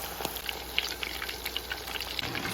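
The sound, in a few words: meatballs frying in oil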